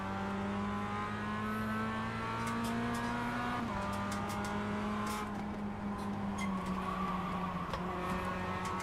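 A Mazda MX-5 race car engine howls steadily at Lime Rock Park, its pitch sliding on shifts, with faint ticks and rattles over a sustained in-car drone.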